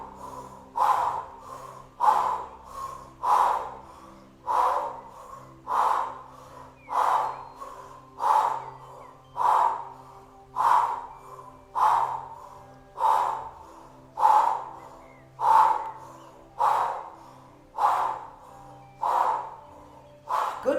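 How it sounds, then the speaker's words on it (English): Forceful open-mouth exhales of lion's breath in a kundalini kriya, about sixteen sharp, evenly spaced huffing breaths repeating steadily, close and fairly loud, with no talking. "Inhale, exhale, powerful lion's roar out of the mouth."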